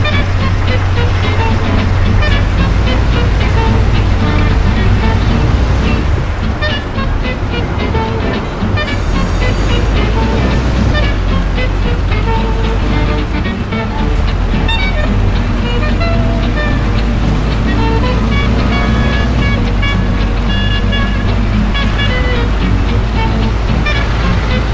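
Car engine noise from the video game Mafia, driven hard and fast through city streets, a loud continuous motor roar with shifting revs that fills the whole stretch.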